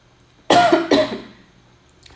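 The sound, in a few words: cough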